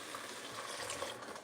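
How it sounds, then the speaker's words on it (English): Beef broth simmering in a pot over medium heat for beef carbonnade, a steady soft bubbling hiss close by with no voices. "we just added the beef broth, and now we're just gonna let this simmer"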